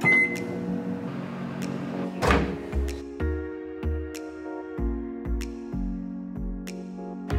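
Coffee reheating in a microwave in a tiny house, a low steady hum broken by a loud clunk of the door, then several evenly spaced beeps and clicks, close by.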